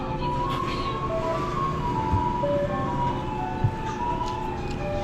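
A garbage collection truck passes with its jingling tune, a melodic chime playing over a steady road-vehicle rumble, moderately close with occasional knocks.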